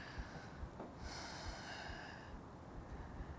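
Slow audible breaths drawn in and released through the nose while holding a yoga pose, faint and close, with a longer inhale swelling in the middle and no talking.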